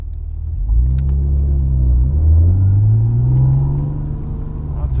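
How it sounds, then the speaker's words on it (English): Steady road rumble from inside a moving car cruising in fourth gear at about 65 mph, with a low engine drone that swells slightly as traffic passes close by, no talking. "Lots of traffic."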